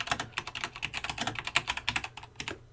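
Rapid, uneven clatter of keys on a computer keyboard as a campaign title is typed, close and clear with short pauses between bursts, no talking.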